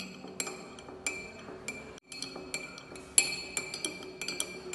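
Perfume ingredients, nonylphenol and fragrance, stirred in a glass container: a quiet run of bright clinks and ticks as a utensil taps the glass in an irregular rhythm, with one brief pause midway.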